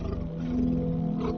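A tiger lets out a short, deep rumbling roar, close and loud, lasting just over a second.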